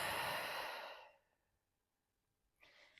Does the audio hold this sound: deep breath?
yes